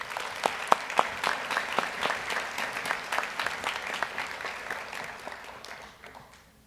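A graduation ceremony audience claps as a professor is welcomed to the podium, dense steady applause from a large crowd that slowly fades toward the end.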